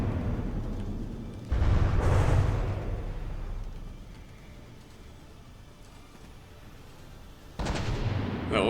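Artillery shells, mostly solid shot, striking a battleship in a naval combat game, two heavy booming impacts several seconds apart with a rumbling tail between them, loud and close, alone without talk.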